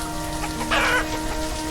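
Chickens cluck in a pasture in the video game Banished, a brief bright clucking burst over a steady low background hum and soft rain-like patter.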